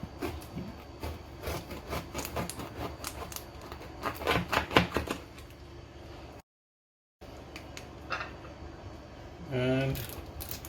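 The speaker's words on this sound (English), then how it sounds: "So cutting again further." Rapid, repeated knife chops on a cutting board while food is prepared for tacos, a steady clatter of close, crisp strikes that pauses briefly and then resumes, with a voice speaking faintly.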